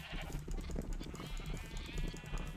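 A flock of Minecraft sheep bleats in overlapping, steady calls while being bred with wheat, dense and continuous over a busy game background.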